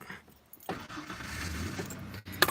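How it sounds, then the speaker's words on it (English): A truck with a troublesome fuel pump cranks and catches, the engine rising into a steady close rumble after a brief key jangle, ending with a sharp click. "So hope my truck starts."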